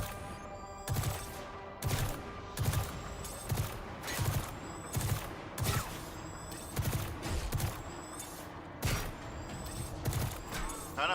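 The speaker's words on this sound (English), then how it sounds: "Trying to fire this with the SMG is low-key kind of crazy." A submachine gun fires in Destiny 2, a video game: short rapid bursts repeat at a steady pace, about one burst each second, with metallic clatter between them.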